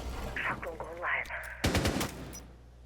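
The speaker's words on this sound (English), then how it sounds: "Looks like it's the Nomad shooting out some windows there" A burst of rapid gunfire rings out in a Rainbow Six Siege match as windows are shot out, arriving loud and close after a stretch of speech, then fading.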